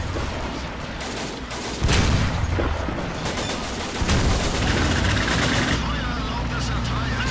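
Battlefield gunfire in the World War II strategy game Men of War Assault Squad 2, steady rattling rifle and machine gun shots with heavier bursts and rumbling, someone talking over much of it.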